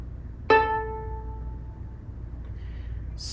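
The open A string of a violin rings once with a sharp, plucked-sounding attack, then fades away over about a second, followed by quiet room tone.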